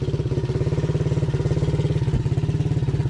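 A cheap second-hand quad bike's small engine idles with a fast, steady chugging putter, loud and close, with a slight rattle and no speech over it.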